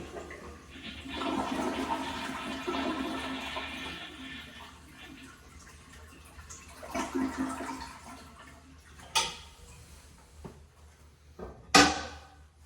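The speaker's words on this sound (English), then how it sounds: "you're gonna wanna flush the toilet" A toilet flushes with a rushing surge of water that swells and slowly drains away, followed by faint trickling and a few sharp clunks and knocks nearby.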